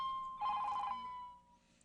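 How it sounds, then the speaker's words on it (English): A mobile phone ringtone trills in a short melodic burst of bright electronic tones. It is fairly faint and followed by a brief click, with no talking over it. "somebody forgot to turn their phone down"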